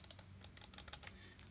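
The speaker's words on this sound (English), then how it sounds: "Actually feels like you're clicking a mouse." Crisp, fast plastic clicks from the tactile mouse buttons beside the eraser-head pointer of a Canon InnovaBook 200LS laptop, about a dozen close, quiet clicks in quick irregular bursts over a low steady hum.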